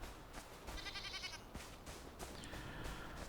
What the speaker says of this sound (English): Little sheep. Little goat. Little goaty poos.